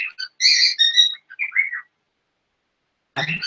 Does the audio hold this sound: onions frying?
no